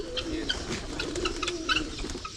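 Pigeons coo in a low, throaty, continuous murmur outdoors on a morning in Africa, with scattered faint chirps from other birds over it; no voices.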